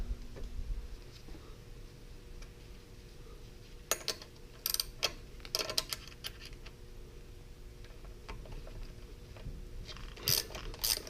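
A ratchet tightens a strut mount on a 2002–2006 R53 Mini Cooper S, giving quiet irregular bursts of metallic clicks amid faint mechanical rattling and background hiss.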